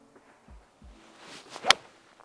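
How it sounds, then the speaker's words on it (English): A golf ball struck with a 5-iron gives one crisp, sharp crack, preceded by a swooshing swing and a few soft footsteps and shuffles. "watch this strike with this 5-iron"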